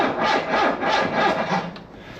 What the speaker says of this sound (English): I don't have a good feeling about this forklift starting.